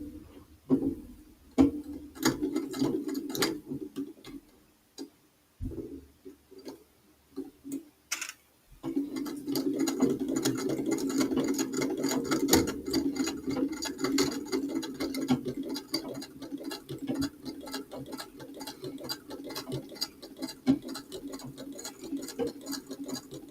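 A sewing machine stitches in steady rapid ticking runs, with a short pause near the start before a long continuous stretch of close, moderately quiet mechanical chatter.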